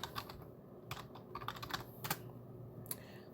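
Quick, irregular keystrokes clatter on a computer keyboard nearby during a server setup, with small pauses between clusters of taps over a steady low hum and no talking.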